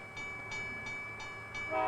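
A train draws near a crossing at night, its steady rumble rising gradually with a sustained horn tone held above it, growing louder toward the end, with no voices.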